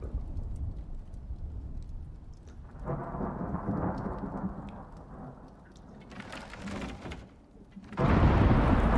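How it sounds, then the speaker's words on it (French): A thunderstorm in the video game Icarius brings steady rain under deep rolling rumbles of thunder, with a louder, heavier crash of rain and thunder near the end. "j'entends le son de la tempête"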